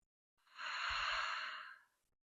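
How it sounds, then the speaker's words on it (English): A single deep, slow exhaling breath during a guided water-element meditation, soft and airy, swelling and then fading over about a second and a half, close and alone against silence. "Exhale it out."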